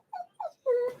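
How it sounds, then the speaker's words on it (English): A dog trying to jump out a window whimpers close by, with two short whines followed by a longer, higher drawn-out whimper. "Damn dog trying to jump out the window"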